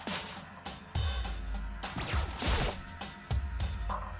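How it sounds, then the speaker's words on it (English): Something falling and crashing down in the Danganronpa video game, a series of loud clattering impacts and thuds with sweeping crashing noise, several hits spread across a few seconds. "Did a giant piece of trash just fall down here?"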